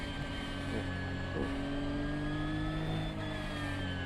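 A GT3 race car at Road America in a sim racing game roars under full throttle, a loud continuous engine note that rises steadily in pitch as it accelerates, with brief shifts in tone partway through.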